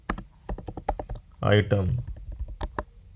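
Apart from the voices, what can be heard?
typing on a computer keyboard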